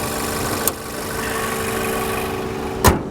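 A 2.5-liter four-cylinder car engine idles steadily up close at a dealer auction, a smooth continuous hum broken by two brief knocks or clunks, with no talking over it.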